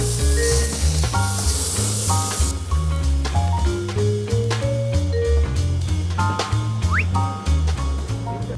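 A tomahawk steak sizzles on a hot grill, a loud, close, continuous hiss and spatter with metallic clinks and scrapes of handling as it is flipped.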